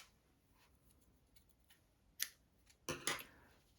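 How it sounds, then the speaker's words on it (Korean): Scissors snip through crochet yarn in two quick, close cuts, the second a double snip, against a quiet room. "실을 한 50cm 이상 남기고 잘라주세요."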